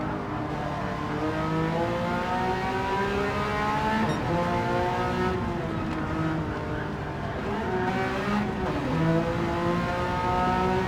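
GT2 race cars in Gran Turismo 7 wail through rising and falling revs, with several quick gear changes and overlapping engine tones from more than one car, loud and continuous throughout.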